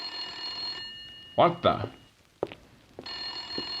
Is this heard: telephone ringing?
yes